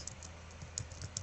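Quiet, quick keystrokes on a computer keyboard while someone transcribes historical records, with a few sharper clicks among the softer taps over a faint background hum and no talking.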